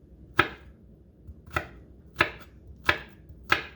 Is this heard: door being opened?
no